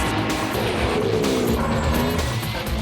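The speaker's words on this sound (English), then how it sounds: "Thousands of horsepower shakes the ground as more than 40 powerful machines prepare for the dramatic" A pack of more than 40 JGTC race cars at a rolling start, a dense roar of engines with rising and falling revs and tyre noise, loud and continuous, no voices.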